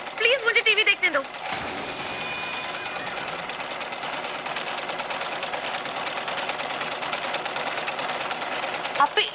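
Steady, fast mechanical whirr of a sewing machine running continuously at close range, after a brief moment of voices at the start.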